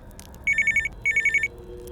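A mobile phone rings inside a truck cab, two bright electronic bursts of rapidly pulsing tones, each about a second long with a short gap between, loud and close over a quiet hum.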